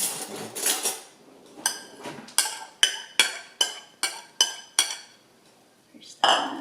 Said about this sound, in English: We're just gonna mix them all in one big bowl